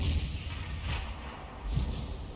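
Tank cannon fire in World of Tanks, a deep booming blast with a rumbling low-end tail, mid-loud and steady against the battle's background rumble, no voices.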